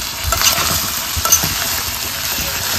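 Sabudana khichdi with boiled peanuts is stirred in a hot pan, giving loud, close scraping and shuffling strokes over a light sizzle, with a couple of sharper utensil clinks.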